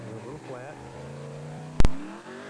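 A Baja 1000 race truck's motor rumbles steadily as it leaves the pit, with a sharp loud bang near the end and people talking over the engine.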